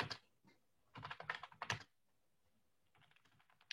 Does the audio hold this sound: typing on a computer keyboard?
yes